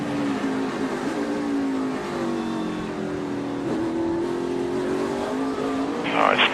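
Kyle Busch's NASCAR race car heard from onboard: a sustained, loud engine drone holding a high, nearly even pitch as the car runs at speed, ending with a brief rough burst.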